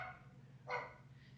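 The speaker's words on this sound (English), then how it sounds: "Everybody, he barks at everybody that comes to the door." Bradford the dog gives a single sharp bark in a room, close and fairly loud, over a low steady hum, with faint background noise before and after.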